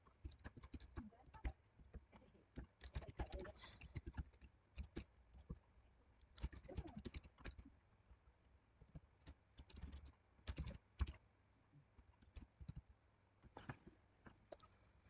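Keystrokes on a computer keyboard while C code is typed in Turbo C, coming in irregular clusters of quick clicks with short pauses, close and fairly quiet, and no talk.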